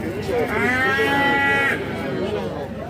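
Livestock, sheep and donkeys, at a busy animal market. A single drawn-out, harmonic animal call, like a long bleat, rises over crowd chatter and general market noise.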